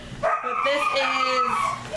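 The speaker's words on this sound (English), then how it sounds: "You guys hear a screaming puppy in the background." Puppy whining and yelping in its kennel, a continuous high-pitched whimpering cry lasting a couple of seconds, fairly close and clear.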